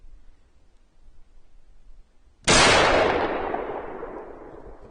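A single loud rifle shot fired through a scope at a steel target breaks a quiet stretch with a sharp crack, then rings and decays over the next two seconds.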